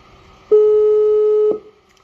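A telephone line gives one loud, steady tone of about a second that cuts off sharply, leaving quiet on either side, with no ringing.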